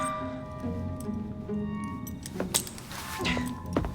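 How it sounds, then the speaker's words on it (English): Keys handed over in Assassin's Creed Syndicate, a close metallic jingle and clink as the bunch shifts in a hand, with a few sharper rattles toward the end, with no talk. "Now hand over your keys."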